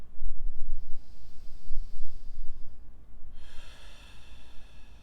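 Slow, deep breathing into the belly during a seated chair pilates exercise, heard up close and loud, with one long airy inhale followed by a rushing exhale.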